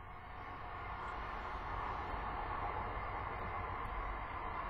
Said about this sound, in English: Sorry about the trains again.